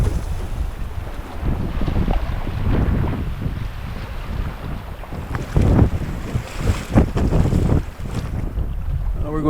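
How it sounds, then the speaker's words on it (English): Fresh wind gusting across a wilderness river, a steady rushing roar with louder buffeting bursts near the microphone and water noise beneath, no talking. "Yeah, that wind is fresh."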